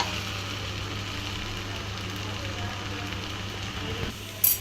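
Chopped okra sautés with masala in a pan for a poriyal, giving a steady, even sizzling hiss close by with a brief clatter at the end.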